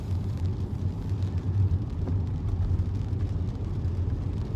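A Mercedes car passing on a road, heard as a steady low rumble of engine and traffic noise that stays fairly loud and even throughout, with no voices.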